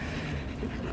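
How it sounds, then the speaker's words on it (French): A French bulldog pants close by in quick, steady breaths, soft and continuous over a brief moment with no talk. "Il y a un petit chien qui vient me dire bonjour."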